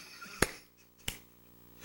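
Two sharp, isolated hand claps about two-thirds of a second apart, fairly quiet and close, heard during a church prayer meeting with no talking.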